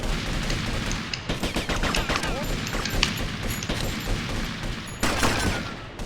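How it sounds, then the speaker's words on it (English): Shotgun blasts from the video game GTA Vice City during a rampage mission, a rapid volley of loud, sharp booms that overlap in a dense, continuous barrage with a heavy crash near the end. "What kind of rampage is this one? Yeah, this shotgun."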